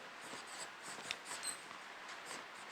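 Chalk or marker writing on a board during a classroom lesson, soft continuous scratchy strokes with small taps, faint and close, with no speech.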